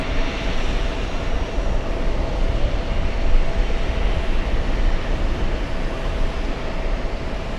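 A Swiss Airbus A330-300 heavy jet at JFK airport, a broad steady roar of engines holding loud and even throughout, with no talk over it.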